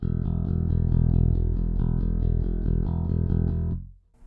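A Sire M5 bass guitar in passive mode sounds its open E string in a steady repeated pulse, loud and sustained, then cut off abruptly near the end.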